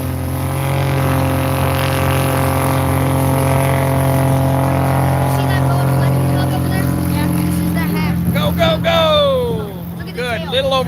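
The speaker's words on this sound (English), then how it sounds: "Good, little over 100-foot takeoff roll" An Aviat Husky light airplane with an O-470 engine roars at full power on its takeoff roll at a STOL demo, a loud steady drone before a voice cuts in near the end.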